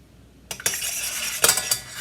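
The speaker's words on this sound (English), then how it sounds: "And just kind of give it a bit of a mix in." A spoon stirring a mixture in a bowl or pan, metallic scraping and clinking that starts abruptly and runs continuously, with a few sharper knocks, fairly close and loud.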